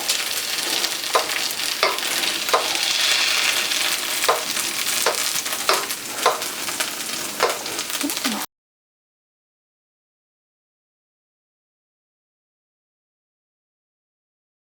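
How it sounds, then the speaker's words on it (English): Bacon fries in a pan with keto potato bread and hash browns, a steady close sizzle broken by a string of sharp spitting pops roughly every half second, ending abruptly after about eight seconds. "And it's spitting, be careful, because it's spitting pieces of bacon."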